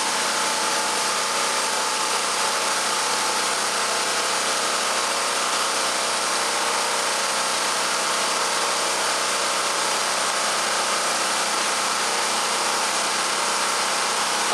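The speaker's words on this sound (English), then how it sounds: "you should also hear the generator surge a little bit with the load from the fan" Champion 3500/4000 W portable generator, model 46514, running steadily under a fan load, a continuous loud buzzing engine drone with a slight surge, close and with no talking throughout.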